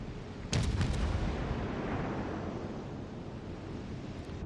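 A naval gun salvo fires in World of Warships Legends as a sharp cluster of booming blasts, followed by a long rumbling roar that slowly fades under a wash of sea and wind noise.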